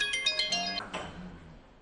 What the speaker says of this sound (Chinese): 接到了医院的电话后，詹建飞便放下了筷子匆匆赶了回去。